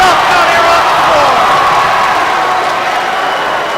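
A loud, dense crowd roar fills a high school boys basketball gym as the Fitchburg at Leominster rivalry crowd rises cheering, sustained and close with commentary voices mixed in.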